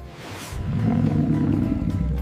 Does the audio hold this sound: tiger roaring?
yes